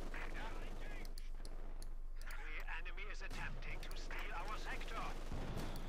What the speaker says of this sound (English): Machine gun, they need to be careful.